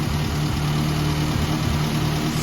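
A car engine idles steadily and close by, a continuous low rumble with an even, unbroken drone throughout and no voices.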